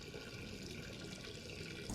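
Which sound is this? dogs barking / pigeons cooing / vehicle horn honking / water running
water running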